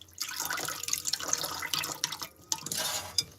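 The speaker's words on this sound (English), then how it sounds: "So I'm soaking them, but I'm draining that water" Water from soaking seeds being drained, a steady trickle with dripping and splashing in a sink, moderately close and continuous with brief pauses.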